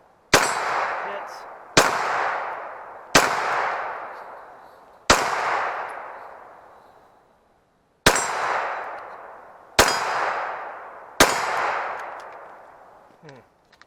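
Seven sharp Sig P320 X5 pistol shots fired at steel targets, each a loud crack followed by a ringing metallic clang that decays, spaced about one and a half seconds apart with one longer pause; no talking.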